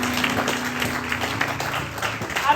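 A church congregation applauding together, a dense steady wash of clapping holding at an even level throughout, with a low sustained tone underneath.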